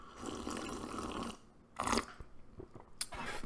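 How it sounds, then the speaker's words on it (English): A loud slurping sip of coffee, close to the mouth, a short burst after a stretch of low rustling, followed by a softer slurp near the end. "let's take a sip, and the slurp involved too here"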